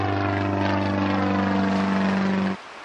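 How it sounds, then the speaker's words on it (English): A steady, droning propeller airplane sound effect from the I Spy Treasure Hunt PC game holds a strong low hum for a couple of seconds, then cuts off abruptly. "A plane."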